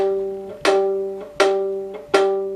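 Open G string of a fiddle plucked by a beginner, three clear plucks about three-quarters of a second apart, each ringing and fading before the next, close and alone.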